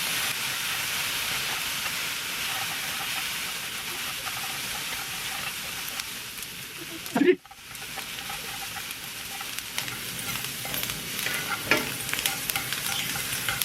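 Shirataki noodles sizzle and hiss steadily in a pan over high heat while being stirred, with one brief loud scrape or clatter partway through.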